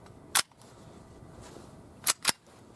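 Three sharp gunshots from a Hi-Point JHP pistol, one single crack followed after a pause by a quick pair, loud and close against a quiet background.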